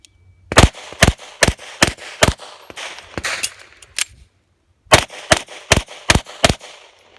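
A Beretta 92 pistol fires during an IDPA match string, two quick bursts of five sharp, loud shots each in a steady rhythm, separated by a brief pause for a reload.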